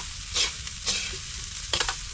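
Rice frying in a pan for sinangag (Filipino garlic fried rice), with steady sizzling and a few louder bursts as the rice is stirred and tossed, close and alone.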